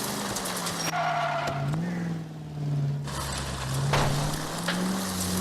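Car engine in L.A. Noire, a steady rumbling drone that rises and dips in pitch as the vehicle drives, with brief skids and street noise mixed in.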